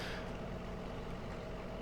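A vintage tractor engine in the farming survival game Vintage Survival Szpakowo runs steadily, a close, continuous low rumble and drone with no break and no talk over it.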